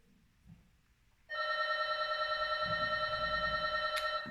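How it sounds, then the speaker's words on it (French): An apartment intercom buzzes with a loud, continuous electronic ring that starts abruptly and holds steady for about three seconds over quiet room noise. "ça, c'est l'interphone."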